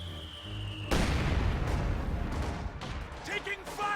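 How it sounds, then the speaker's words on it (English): Heavy gunfire and artillery-like booms from a World War II strategy game battle erupt loudly after a quieter opening, forming a dense sustained barrage with a voice speaking over it. "Receiving effective fire!"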